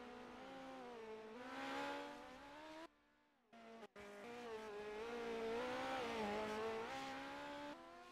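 Midget race car number 14 at the Chili Bowl, its high-revving engine whining loudly through turns 1 and 2, pitch rising and falling, with a brief cutout partway before the engine roars again.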